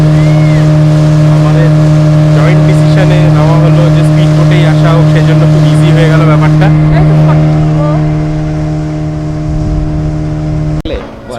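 A speedboat races across the water, its engine a loud, steady drone that holds throughout and then cuts off abruptly near the end, with people talking over it.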